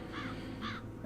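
Crows caw twice in the Chains of Satinav game, harsh evenly spaced calls about half a second apart over a low background hum.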